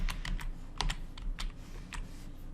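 Typing on a computer keyboard, a run of quick, light key clicks in an uneven rhythm, close and fairly quiet, with no voices.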